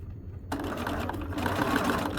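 A sewing machine stitches in the ditch along a garment's shoulder seam, its steady mechanical whir running continuously and close after a brief quiet start.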